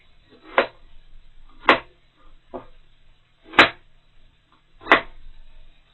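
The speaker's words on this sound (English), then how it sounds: "Little coarse chop." Kitchen knife coarsely chopping onion on a cutting board: five sharp, separate knocks spaced about a second apart, close and clear against a quiet background.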